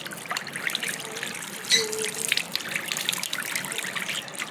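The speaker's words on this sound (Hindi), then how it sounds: "मैं ना हल्का सा ना मुँह पे पानी मार रही हूँ" Water runs from a tap and splashes as it is cupped onto a face, a steady close trickle with brief splashy bursts and no talking.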